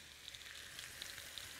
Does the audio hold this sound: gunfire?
no